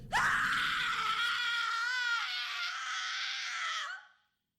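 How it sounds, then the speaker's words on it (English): A person screams alone, one long sustained high-pitched cry that starts abruptly, holds loud and strained with a wavering tone for nearly four seconds, then cuts off into silence. "Finally, I start screaming."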